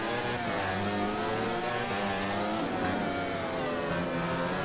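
Racing motorcycle engine revving hard on a track, a loud sustained high-pitched whine rising and falling through the gears, close and continuous with no voices.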